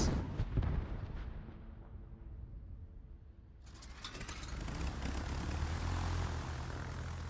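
Bombs drop from an aircraft in World of Warships, with a loud propeller engine drone and a burst of blasts at the start. A quieter lull follows before a heavy rumbling roar of explosions and engines swells and holds to the end.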